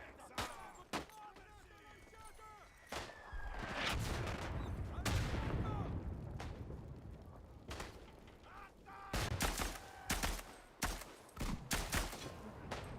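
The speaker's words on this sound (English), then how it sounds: "I'm shooting the rock." Repeated gunfire in a video game, sharp cracks in irregular bursts alongside dense sustained shooting and booms, loud and close, with a voice talking at times.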